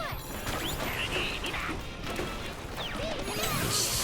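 Crashing, crunching impacts as terrain is smashed in a Donkey Kong video game, a dense stream of game debris and whooshes mixed with other game effects, fairly loud and continuous.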